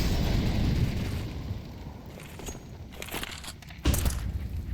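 A grenade blasts in a Counter-Strike match on the Ancient map, a heavy low boom rolling into crackling debris, followed by sharp pops and a second thump near the end.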